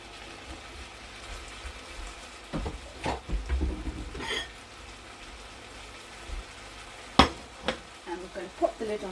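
Bean sprouts being stir-fried in soy sauce in a pan, with soft scraping stirs, a low sizzle underneath and a few sharp clatters of the utensil against the pan.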